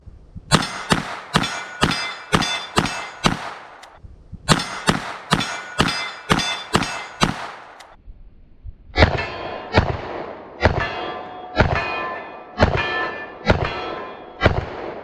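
A Taurus Tracker 627 .357 Magnum revolver fires at steel silhouettes 10 yards downrange. Loud, sharp shots come in quick strings, each with a metallic clang. Two fast groups of shots are followed by a slightly slower third series.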